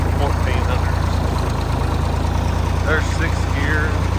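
A farm tractor's engine drones steadily at around 1400 rpm in fifth gear while pulling a bush hog through a field, a loud, even low rumble that holds unbroken throughout.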